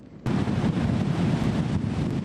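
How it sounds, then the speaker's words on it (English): Storm surf of 3 to 4 foot ocean waves on an island shoreline, heard as a loud, steady roar of crashing water and wind buffeting the microphone that starts abruptly and carries on without a break. "close enough to capture a piece of the 3 to 4 foot waves"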